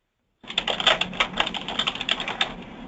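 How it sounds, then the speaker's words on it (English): Rapid typing on a computer keyboard while entering an email address, a steady run of close, crisp key clicks with uneven rhythm and occasional louder taps, starting abruptly after brief silence. "I'm just typing in the address again, the email address for ECAP"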